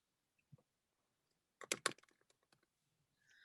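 Someone types a word on a computer keyboard: a quick cluster of key clicks near the middle of a quiet stretch, preceded by a lone soft tap, and followed by a few scattered lighter clicks.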